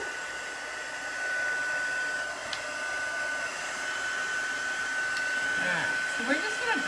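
A heat tool or dryer blows steadily while drying chalk paste on a fabric flag, a continuous broadband whoosh with a thin whine, with faint voices and small clatters toward the end.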